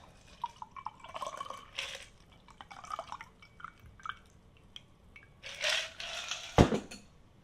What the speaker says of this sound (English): We're going to strain this into our glass.